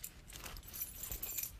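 Metal keys jangle in a pocket, a soft, irregular run of small clinks and rattles, faint and close.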